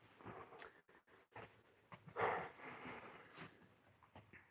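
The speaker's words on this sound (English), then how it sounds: "The dogs are playing." Dogs at play give short, scattered snorts, pants and soft whimpery huffs, close but fairly quiet, with small bursts and pauses between them.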